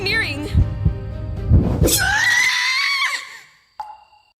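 A voiced scream from a Gacha series episode rises into a long, high, wavering shriek. Louder, warbling speech comes before it, and a short squeak follows after a pause.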